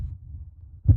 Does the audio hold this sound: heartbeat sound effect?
yes